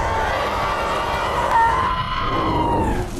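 In a film scene, a mutant bear lets out a long, harsh, voice-like scream that sounds like its last victim, loud and sustained over a rumbling, noisy backdrop before it tapers off at the end.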